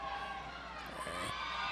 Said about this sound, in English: Cheer from the Brides fans in the crowd